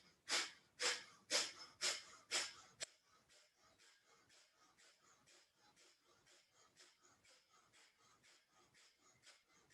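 Long, deep yoga breaths come first as five loud, rhythmic forceful exhales, then give way to many quieter, quicker breaths in a steady pulse, close to the listener.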